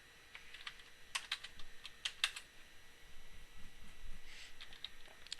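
Quiet, close keystrokes on a computer keyboard in irregular bursts, with short pauses between quick runs of clicks and a faint steady hum underneath; no talking.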